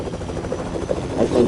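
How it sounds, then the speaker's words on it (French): A helicopter flies overhead, a continuous close rotor thrum with pulsing low-mid chop that swells slightly toward the end, alone without speech. "à cause de l'hélicoptère"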